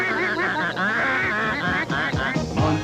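Ducks at the Southeastern Duck Races honk and quack in a dense, continuous chorus, close and loud, with people talking and calling faintly underneath.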